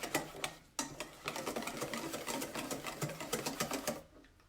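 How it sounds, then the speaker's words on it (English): Rapid, rhythmic clicking of a whisk beating chia seed pudding mixture in a bowl, close and steady for about four seconds before stopping abruptly. "we are going to whisk this as much as we can"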